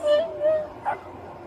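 A male dachshund named Tito barks and whimpers in short yelps, a few close barks with a person talking nearby at a roadside traffic stop.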